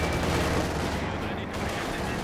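Tank gunfire in the WWII strategy game Company of Heroes 2, a dense loud roar of blasts and rumbling battle noise filling a short stretch without clear pauses.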